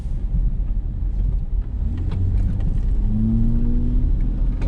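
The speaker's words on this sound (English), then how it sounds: "This is a double semi." A double semi truck passes on a highway, a loud, heavy low rumble of engine and tires with rising and falling tonal whine, close and continuous.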